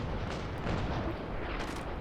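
Ship cannon fire in the naval combat game Naval Action, a string of deep rumbling booms and blasts rolling together at mid distance without speech.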